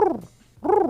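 A person's voice imitates a pigeon's cooing with two low, rounded warbling coos separated by a brief pause, close and clear.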